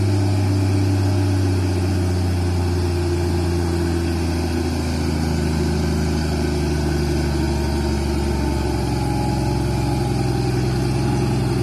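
An old truck with a modified exhaust fitted with a picnic gas canister idles loudly nearby, a deep steady rumble with a low throbbing pulse that shifts slightly in pitch partway through.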